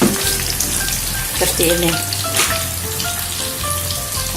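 Risoles frying in hot oil, a loud steady crackling sizzle with bursts of spattering, close up, while a voice speaks briefly over it and a low hum runs underneath.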